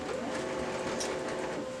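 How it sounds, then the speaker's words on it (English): An Okidata MC363 printer initializing after a drum change, giving a steady mechanical whir with a rattling, train-like hum that runs evenly throughout, fairly close, with no voices. "your printer will start initializing"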